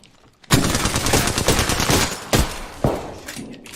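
Sustained rapid automatic gunfire in Apex Legends bursts in loud and close after a brief quiet start, followed by a few heavier single shots.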